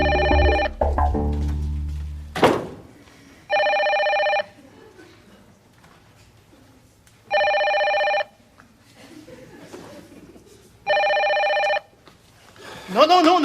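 A telephone rings in repeated evenly spaced electronic bursts, three or four loud rings separated by pauses, with people talking in French between them.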